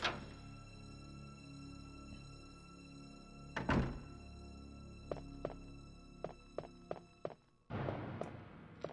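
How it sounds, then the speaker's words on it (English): Door in Resident Evil 2 on PS1 being unlocked with the diamond key: a sharp thud and several short clicks and knocks, followed by a heavier rumbling opening sound over a steady background music drone. "Now I'm just gonna go and use this diamond key right now,"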